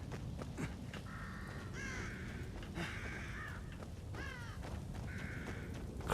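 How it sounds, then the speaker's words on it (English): Crows in The Evil Within caw several times in harsh, repeated calls over a steady ambient game background, fairly close and clear. "Crows."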